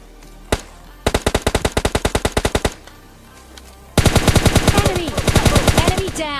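PUBG Mobile Lite gunfire: a single shot, then a rapid automatic burst of about fifteen sharp reports, a pause, and a second denser, louder burst with echoing tails, close and dominant.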